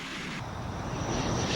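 A Royal Air Force Hawker Hunter jet fighter roars overhead, a broad, steady rushing whine at moderate volume that swells slightly toward the end, with no other sounds.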